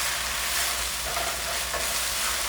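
Oyster sauce, sweet soy sauce and a drop of sesame oil sizzle steadily in a hot pan while shrimp are cooked, giving a loud, continuous close-up hiss with no talking.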